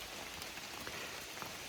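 Steady, dense rain falling outdoors on the Appalachian Trail, a continuous close wash of pattering drops with no voices.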